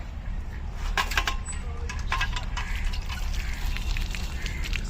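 Water splashing in a natural outdoor stream or spring, a continuous light wash of liquid with scattered brief splashes and drips, moderately close and steady throughout.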